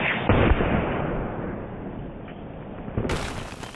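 A NETVOR .457 PCP big-bore air rifle fires one loud, sharp shot near the start, followed by a lingering outdoor rumble that slowly fades, with no talking.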